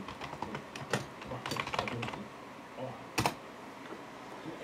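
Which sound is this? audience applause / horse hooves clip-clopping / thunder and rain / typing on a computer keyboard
typing on a computer keyboard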